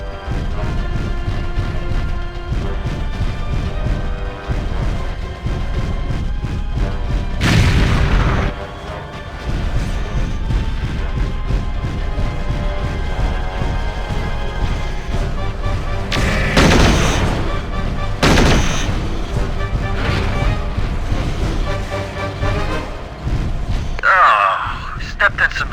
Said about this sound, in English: Hey, we're taking fire. Looks like we've got some LRMs to deal with.